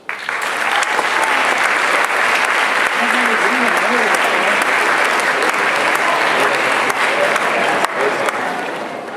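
Students at a Titusville High School presentation applaud steadily to welcome the mayor, a dense, sustained clapping from a large crowd that holds at full loudness for the whole stretch, with a few voices rising underneath.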